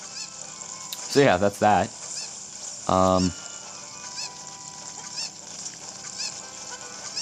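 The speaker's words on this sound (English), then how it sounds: "Yeah, I'm carrying a chicken." A cucco, the chicken in Zelda Ocarina of Time 3D, squawks in a few loud harmonic bursts over quiet game ambience, with a brief remark from a player in between.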